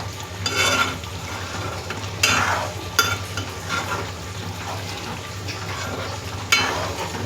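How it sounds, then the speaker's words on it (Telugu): Curry leaves hit a hot pan and burst into a loud, crackling sizzle, with stirring and the scrape and clink of a utensil against the pan repeating over several seconds. The sound is close. "కరివేపాకు వేసేస్తున్నా."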